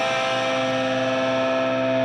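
Heavily distorted electric guitar holds a double-stop on the second and third strings barred at the fifth fret, one steady sustained loud tone with no talking over it.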